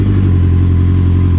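A home-made dune buggy powered by a CBR 1000 motorcycle engine starts up and settles into a loud, close, steady idle with a dense low rumble and no pauses.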